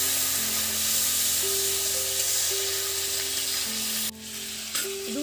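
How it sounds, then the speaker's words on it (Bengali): Ginger paste frying in hot oil in a pan for Bengali cauliflower curry, a steady loud sizzle with a faint tonal hum running through it, ending in a brief clatter. "বেটে রাখা আদা আমি দিয়ে দিচ্ছি।"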